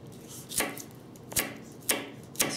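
A knife blade cuts through a hard carrot in four crisp, separate chops, each a sharp crunch spaced about half a second apart, close up against quiet background.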